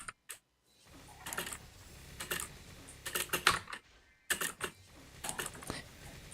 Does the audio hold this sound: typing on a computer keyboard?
yes